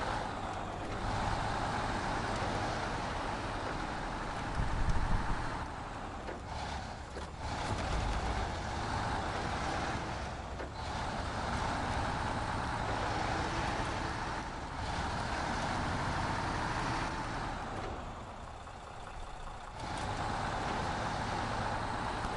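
A Limes L400 truck drives in the video game SnowRunner, its engine a continuous mid-level drone with a wide hiss of road and terrain noise, swelling and dipping slightly over time, no voices present.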